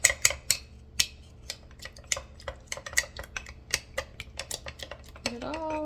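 A spoon clinks and scrapes against a container while stirring a loose sourdough starter, with irregular sharp taps and scrapes, close and clear, ending in a brief smeared scrape.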